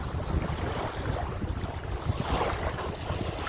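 Breezy wind blows steadily across a lake shore beach at Wynnwood Park in The Colony, with continuous low buffeting and rumbling gusts close to the microphone and no voices.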